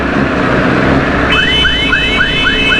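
Car horns honking in congested traffic at a busy chowk, a repeated chirping, warbling electronic horn pattern sounding over steady street noise and engine rumble.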